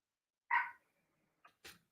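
Dogs bark nearby: one loud bark, a pause, then two quicker, quieter barks, against otherwise near silence.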